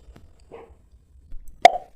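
A shaken soda water bottle bursting open with a single sharp, close pop and brief fizzy hiss near the end, preceded by faint quiet rustling.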